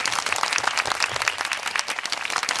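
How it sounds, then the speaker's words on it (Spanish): Studio audience applauding to welcome a guest, a dense steady burst of clapping from many hands, loud and continuous. "vamos a recibir con un fuerte aplauso a Lorena Dávila"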